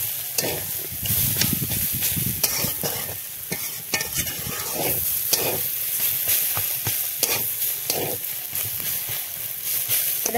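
Shredded cabbage and soft, mashed potatoes are stirred and fried in a pan with a little sugar, nuts and coriander leaves, giving a steady sizzle broken by repeated scraping strokes of the spoon.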